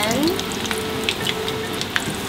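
Brinjal (eggplant) pieces sizzle and crackle steadily in hot oil for a Sri Lankan dish, a loud, close frying hiss with small pops throughout.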